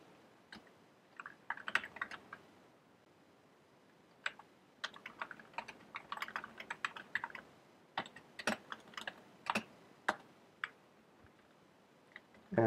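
Fast, uneven keystrokes on a computer keyboard as code is written, clustered clicks in bursts with short pauses, fairly close and quiet, no talking.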